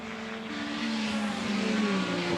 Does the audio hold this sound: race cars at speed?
yes